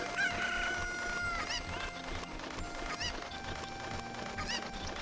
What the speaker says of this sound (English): There's a chicken.